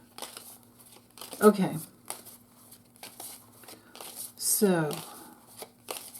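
Kipper fortune-telling cards being shuffled and laid out in a nine-card spread: two short papery riffling bursts close by, separated by quiet gaps, with a person speaking softly between them.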